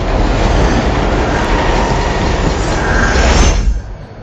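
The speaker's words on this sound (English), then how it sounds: "Without thinking, Luke latches onto the moving train," A subway train rumbles along in a steady, loud, dense roar with rattling mechanical clatter, then the noise cuts off abruptly near the end.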